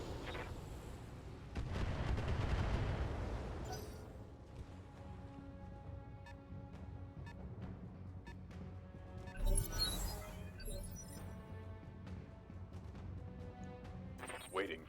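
Weapons fire from a mech's alpha strike in the Battletech game, a loud burst of booming shots early on followed by a further blast and crackling impacts over rumbling game sounds and music.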